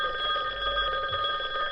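A telephone bell rings steadily and continuously at moderate loudness, a bright multi-tone ring with no pauses over a low background hum, and nobody speaks over it.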